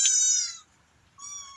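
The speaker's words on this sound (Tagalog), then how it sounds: "Marami kayong pusa" A cat gives two meows, close and fairly loud: a longer cry, a brief pause, then a second shorter call.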